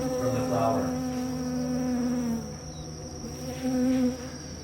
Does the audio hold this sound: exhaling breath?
no